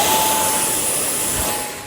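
A radio-controlled A-6 Intruder model plane roars past with a steady jet-like engine whine that fades slightly toward the end, loud and continuous with a constant high tone.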